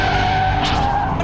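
Smoking car tires skid under hard braking from about 120 km/h, a loud continuous screech with broad rushing noise and a steady high whine, sustained throughout without pause.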